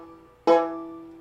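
Single banjo note picked with the fretting finger sitting on top of the fret, a sharp bright pluck that rings briefly and decays, heard close and alone.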